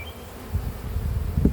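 Honeybees buzz steadily and up close around an open beehive, a dense continuous hum with no talking.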